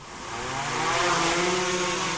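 A drone's motors whir up for a night takeoff, a broad buzzing hum with faint propeller tones that rises in loudness and holds steady, close and continuous with no talk.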